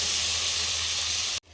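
Ginger and garlic sizzling in a pan over a low flame, a steady broadband hiss that holds evenly and then cuts off sharply near the end.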